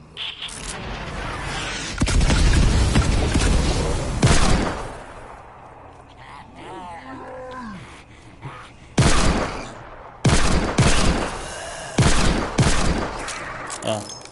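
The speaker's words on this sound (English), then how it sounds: "This is a cake exploder right here. And we're just gonna drop bombs on them." A cake exploder dropping bombs in Fortnite, several sharp bursts of explosive gunfire-like blasts in clusters separated by quieter gaps, loud and close, with a voice talking in between.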